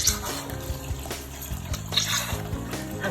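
Water running from a tap into a bath, a continuous splashing trickle heard close up with faint tonal background sounds.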